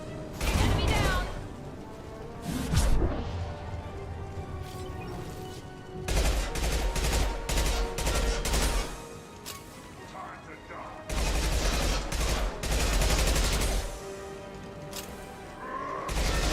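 Gunfire in the Mass Effect 2 shooter: dense bursts of rapid shots in several loud clusters separated by short lulls, with clanking impacts and voices mixed in.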